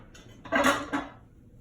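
A 9x8 baking dish clinks and clatters against other kitchenware as it is pulled out and handled, with two or three brief, close knocks.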